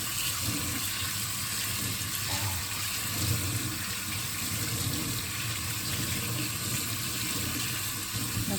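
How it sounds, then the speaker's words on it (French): A kitchen tap runs steadily while dyed socks are rinsed beneath it, a constant hiss and splash of water at moderate volume with slight fluctuations as the flow hits the fabric. "Donc on va pouvoir rincer nos petites chaussettes"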